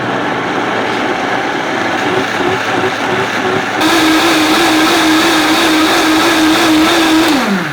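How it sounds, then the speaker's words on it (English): A blender purees jalapeño hot sauce with honey, apple cider vinegar and white vinegar. It starts after a short lead-in and then whirs loudly at a steady high pitch before winding down. "And now we'll blend it up."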